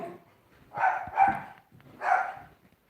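Several dogs bark inside a house, three loud close bursts with brief pauses between them, yappy and a little whiny in tone, with no talking over them.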